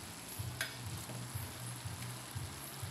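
Oil sizzles steadily in a pan while fried fish is set into escabeche with vinegar and chili, with soft stirring scrapes and occasional utensil taps over the constant hiss.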